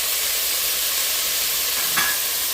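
Worcestershire sauce splashes into a pot roast pan to deglaze it, giving a loud, steady, close hiss of sizzling that runs the whole time, with one faint brief scrape near the end.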